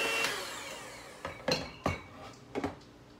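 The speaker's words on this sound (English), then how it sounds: "I'm gonna go ahead and cream together both the sugar and the butter" Sugar, butter and bananas being creamed together in a bowl for banana nut muffins, heard as a few quiet, separate clinks and scrapes of utensil against dish with pauses between them.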